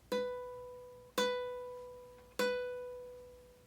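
Three plucks of the same single ukulele note, fretted at the fourth fret, each ringing out clearly and decaying slowly before the next. Quiet and close, with no talking.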